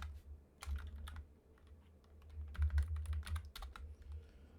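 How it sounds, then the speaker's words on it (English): Rapid clicking keystrokes on a computer keyboard, irregular bursts of close, fairly quiet taps over a low background hum, with no speech. "stop typing and just do this"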